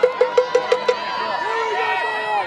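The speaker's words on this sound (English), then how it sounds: "the local crowd going nuts for the bottles" Local spectators at a mixed ultimate frisbee semi-final between USA and Canada cheer and shout as a steady crowd roar, with a few sharp whistle-like bursts early on over the continuous din.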